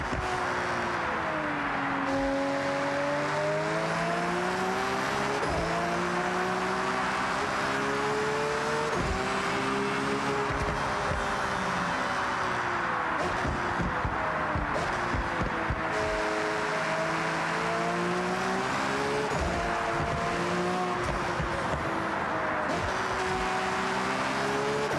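Cars in the video game GTA driving steadily, engine tones rising and falling through gear changes, with occasional tire squeal and skidding over a continuous loud motor drone.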